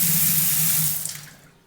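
Water pours steadily from a tap into a stainless steel kitchen sink, a close, full rushing hiss that tapers off as the flow stops.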